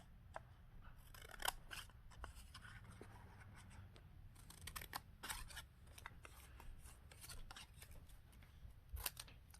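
Scissors snip around a paper bookmark in quick, close crisp cuts and rustles, quiet and irregular, with no voices.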